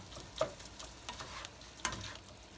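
Keema fries in a pan, making a soft, steady sizzle under a few sharp scrapes and taps of a spoon stirring, fairly quiet and close, with no talking.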